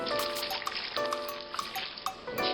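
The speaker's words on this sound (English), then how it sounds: "So I've got right here some hot tap water." Hot tap water poured steadily over dried chiles for pork tamales, a continuous close trickling and splashing with liquid gurgles throughout.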